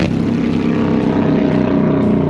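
Two cammed 107 Harley-Davidson motorcycles tear past in a back-road drag race, a loud steady throaty roar of engines close by, with no talking.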